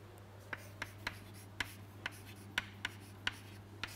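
Chalk or marker taps and scratches out an equation on a board, a series of short crisp strokes at uneven intervals over a steady low hum.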